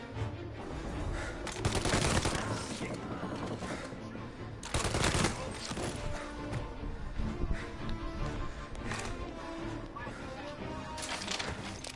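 Gunfire in the Mafia video game: bursts of rapid shots and crashing impacts in dense, overlapping volleys, loudest near the start and again around the middle, with game voices mixed in.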